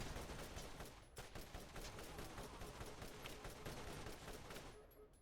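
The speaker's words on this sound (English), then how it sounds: "That automated turret really has a quick draw there" Gatling turret in Borderlands firing in a dense, continuous stream of rapid gunfire, loud and close, with a brief lull near the end.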